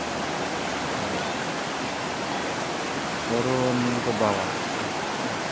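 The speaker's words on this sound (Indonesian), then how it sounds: "Airnya dari sini cukup deras turun ke bawah" A clear mountain river rushes swiftly down over rocks at a nature spot, a dense, steady roar of flowing water heard close, with someone briefly speaking over it near the end.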